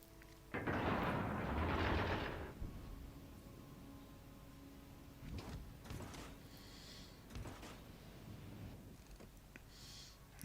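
Naval guns fire in the World of Warships Legends game, a loud burst of cannon blasts early on followed by fainter scattered thuds and distant booms over quiet background hum.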